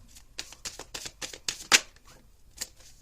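Tarot cards shuffle and slide as one is drawn from the deck, a quick run of close papery flicks and riffles building to a sharper snap, then fading to a soft tap, with no voices.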